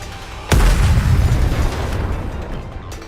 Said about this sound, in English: The missiles have no homing ability. It's just firing wildly.